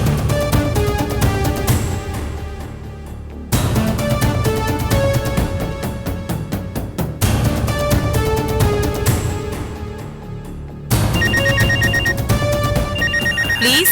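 A telephone ringtone plays over a TV serial scene, its repeating electronic melody sounding in loud bursts with short pauses between them, with no talking over it.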